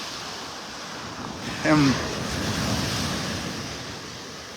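Ocean surf rolls onto a beach in North Naples, Florida, on a morning walk, a steady wash of waves under wind buffeting the microphone, with a brief voice.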